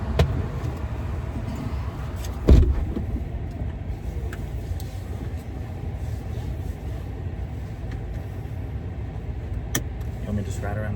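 Tesla Cybertruck rolling slowly around a parking lot, a steady low road rumble and cabin hum with a brief thump near the start, while people talk inside over it.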